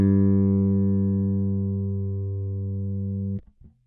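A single bass guitar G string rings out as a long, steady sustained note for tuning, fading slowly before being damped, with a couple of faint handling noises at the end.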